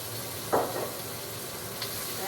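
White wine poured into a hot pan of browned beef shank for osso buco hits with a brief burst of sizzling that quickly settles into a low, steady frying hiss.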